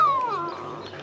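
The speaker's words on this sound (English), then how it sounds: "A dog. I love dogs." A dog whimpers and yips in a Doctor Who audio drama, a single falling whine followed by softer whining, close and fairly loud with no talk over it.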